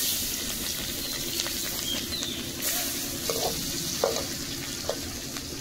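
Curry ingredients, onion and green chillies, fry in a pan with a steady sizzle while a spoon stirs them, adding occasional scraping knocks near and clear.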